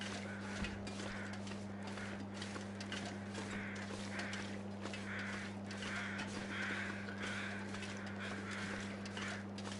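Crows caw in the snowy wilderness of the survival game The Long Dark, giving a series of repeated harsh calls at a moderate distance over a steady, low droning hum.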